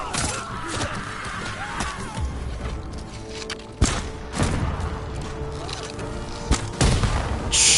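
A bomb explodes in the video game Ghost of Tsushima, with a sharp, loud blast that stands out from ongoing combat clatter, followed by a few further impacts, while a voice talks.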